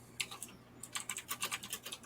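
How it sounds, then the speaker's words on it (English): Fingers tap quickly on a computer keyboard, a close run of crisp key clicks in uneven bursts after a short pause, with no voices over them. "So, David, what are you typing?"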